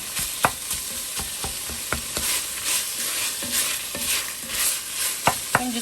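Zuppa Toscana soup simmers and fries in an enameled cast iron skillet, a constant sizzle broken by repeated sharp scrapes and knocks of a utensil stirring the pot at close range.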